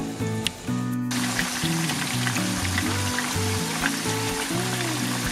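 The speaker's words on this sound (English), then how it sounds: "I'm gonna dip fry it to your amazing corn oil" Chicken wings deep fry in hot corn oil, giving a dense, continuous bubbling sizzle up close; a brief tonal sound and a clatter come right before the frying rises and carries on steadily.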